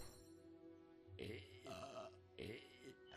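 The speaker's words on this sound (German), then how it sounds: "Rülpst ihn doch mal an." A game character in Fable Anniversary lets out a few guttural burps in quick succession, loud and close, over a faint hum of game background.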